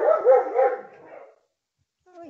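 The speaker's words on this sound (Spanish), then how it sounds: "Uy, disculpen a mi perro." A pet dog barks nearby in a few quick, sharp yips in a row, then falls silent before a faint whimper at the very end.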